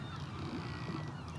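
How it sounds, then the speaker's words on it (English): Birds honk and call faintly over a steady ambient hum in the Belfast shipyard of the video game Titanic: Honor and Glory, with goose-like cries rising briefly from the background. "Ooh, even the creaking of the wood, and also tons of birds."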